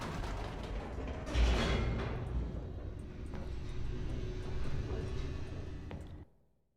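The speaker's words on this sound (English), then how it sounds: "The elevator raced downward, plummeting towards an unknown fate." Elevator machinery in The Stanley Parable descending, a steady low mechanical rumble with creaks and a brief louder clunk early on, running continuously before cutting off abruptly near the end.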